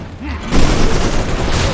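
Incoming rocket strikes in the strategy video game Civilization Beyond Earth, a loud booming burst that erupts suddenly and rumbles on as a dense barrage, with a voice talking over it.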